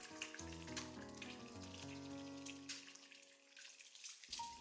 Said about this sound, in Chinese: 可以晃动一下锅，底部煎至金黄，翻过来煎另一面